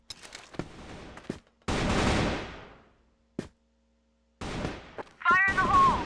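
Short bursts of rapid automatic fire from the Diablo gun in the Crossfire video game during a competitive match, sharp and separated by quiet gaps, with a caster's voice speaking near the end.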